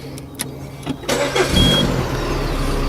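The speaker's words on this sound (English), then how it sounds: "Car is running really smooth." A 2004 Peugeot 307SW with a 2.0 petrol engine, freshly fitted with a new cambelt, water pump and alternator belt, cranks a few times, catches and settles into a steady, smooth idle close by.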